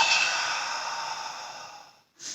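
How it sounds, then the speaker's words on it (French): A long, breathy exhale pushed through the back of the throat during Pilates lateral thoracic breathing, steady and close for about two seconds, then a brief sharp intake of breath. "et vous expirez avec le fond de la gorge"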